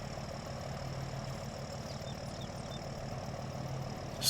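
Tractor-type vehicle engine idling steadily in a farming video game, a constant low rumble with a faint clatter, close and unbroken, with a slight rise at the very end.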